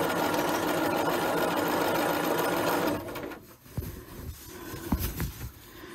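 Sewing machine stitching a set-in sleeve worked in the round on the free arm of a McCall's 8220 top: a loud, steady motor whir for about three seconds, then it stops, leaving quieter handling noises and small clicks.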